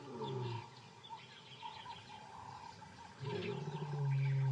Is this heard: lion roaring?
yes